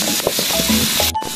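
Garlic frying in a pan, a constant bright sizzle and hiss with a few faint clinks and small knocks of cookware underneath.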